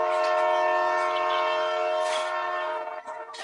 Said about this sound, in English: Did you hear that train coming down the way?